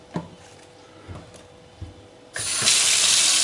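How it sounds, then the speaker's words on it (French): Tap water gushes into a kitchen sink with the plug in, starting abruptly after a few light knocks and then running as a steady, loud, close hiss. "et faire couler un fond d'eau"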